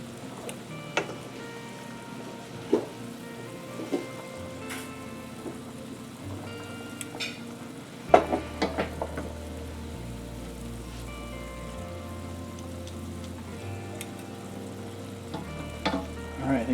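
Pasta fries in a small amount of oil in a pan, a continuous close sizzle and crackle with occasional sharp clinks and taps of utensils against the pan.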